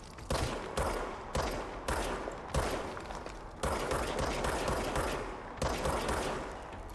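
A weapon in the video game Control fires rapidly in repeated bursts, each a tight cluster of quick cracking shots separated by brief gaps, loud and close with no voices.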